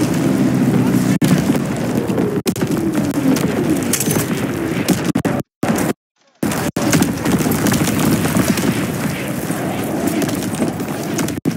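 An artillery battery fires in a video game, with dense rumbling explosions and rolling gunfire rising and falling loudly throughout, briefly cutting out midway.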